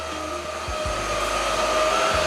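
A Supclean A10 cordless vacuum cleaner runs steadily with a loud, high motor whine and airy rush, and a few low thumps come through as it works across a blue mat.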